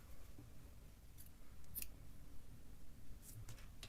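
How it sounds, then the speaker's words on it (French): Scissors snipping yarn during crochet work, a sharp, close, quiet cut with a couple of smaller metallic snips afterwards over faint room noise. "on coupe le fil"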